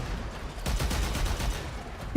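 Dense, continuous video-game gunfire, a fast rattle of overlapping shots filling the whole stretch at steady loudness, ending in a slightly heavier burst.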